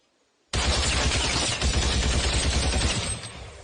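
Gunfire from a reloaded weapon in a battle scene, a sudden loud burst of rapid shots that keeps rattling steadily for about three seconds before easing off, close and dense.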